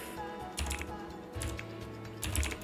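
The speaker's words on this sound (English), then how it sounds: "I was typing so slowly then because my keyboard right now, I don't know what's wrong with it" Keyboard typing on a computer with a faulty keyboard, heard as slow clusters of soft clicks and key thumps in a few bursts, fairly close, with no talking.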